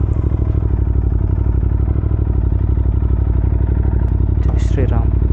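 A Royal Enfield GT650 motorcycle engine idles steadily after a cold start: a close, even throbbing rumble with a brief higher chirp near the end.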